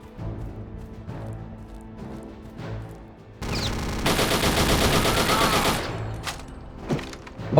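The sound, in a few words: chain gun firing in the video game RealRTCW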